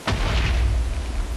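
A deep, rumbling boom bursts out in a Minecraft game and rolls on for over a second, loud and close, with no talking over it.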